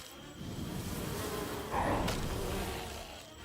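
Bees buzz in the video game Heroes of Might and Magic: Olden Era, a steady insect drone rising briefly louder midway, then tapering off, heard alone.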